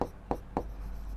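Pen writing on paper while solving a Class 10 geometry problem on triangles: three short, soft strokes in a steady rhythm over a low background hum, close by and without speech.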